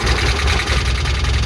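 A worn-out 2012 auction vehicle sitting in neutral runs roughly, its engine loud and close with a steady, uneven low rumble and a knocking throb throughout.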